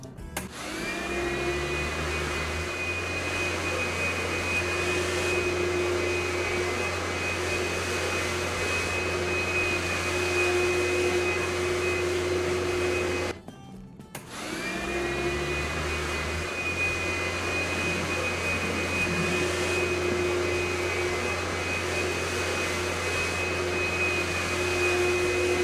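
A vacuum cleaner runs while cleaning a boxing gym in the video game Sports Renovations, giving a steady, loud whine with a low hum. It cuts out briefly partway through, then starts up again and keeps droning.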